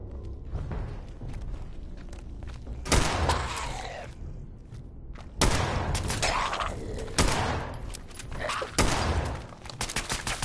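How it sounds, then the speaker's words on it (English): Loud bursts of close-range gunfire from the player's weapon in Fallout 76 come in several separate volleys with short quiet gaps between them, each burst a harsh crackle of rapid shots. "I'm shooting point blank range and I can't hit shit."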